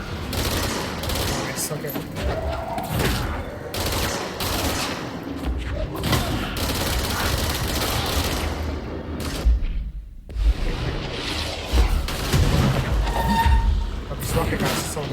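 Gunfire in the video game Control, rapid bursts of shots and booms in quick succession under a voice, with a brief lull partway through before the firing resumes.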